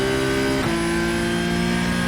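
Race car engine in a sim racing game on Monza's exit from the Parabolica, loud and steady, pitch climbing, dipping briefly at a gear change near the start, then rising again, with no talk.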